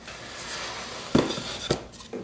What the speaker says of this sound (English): You just slide the lid off